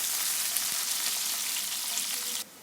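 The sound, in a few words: onions frying in hot ghee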